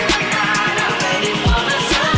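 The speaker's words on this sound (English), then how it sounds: "One of them is this snare drum roll, this you'll hear it right here" A pop song plays loudly, with a rapid snare drum roll driving under dense electronic production and sweeping effects.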